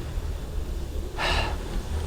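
A cyclist recovering after a climb, with one short, breathy exhale standing out briefly over steady low rumbling background noise.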